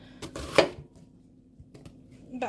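A knife cuts onion into small pieces on a board for curry, with a few close, crisp chopping thuds; the strongest comes early, followed by quieter taps and light kitchen rustle.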